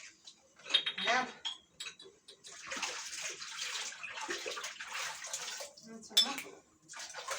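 Dishes washed by hand in a home kitchen sink, with splashing, trickling water, and light clinks of crockery and utensils in bursts; a voice speaks now and then over the washing.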